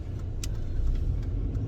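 A car engine idling steadily while warming up on a cold day, a low continuous rumble heard from inside the cabin, with a few faint clicks over it and no talking.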